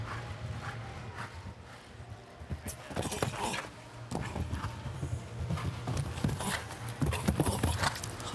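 Hooves of show jumping mare Mary Lou at a Longines FEI jumping event, irregular clip-clopping beats near and clear, with louder thuds at intervals and a commentator's voice talking over them.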